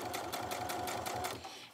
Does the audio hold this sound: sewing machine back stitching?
yes